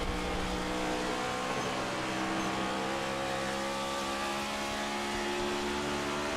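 The number 71 race car's engine drones steadily in a racing video game heard from on board, a constant loud mechanical hum with layered tonal whine and no clear revving changes, no voices.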